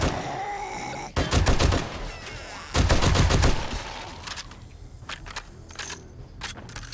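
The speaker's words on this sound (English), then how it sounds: "I'm so fast after I, like, shoot people with a machine gun" Machine gun fire in the video game 7 Days to Die comes in two loud, rapid bursts of shots, followed by scattered single impacts and crackling sounds.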